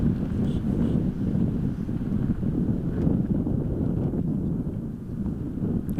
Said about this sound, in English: you can see that wind really picked up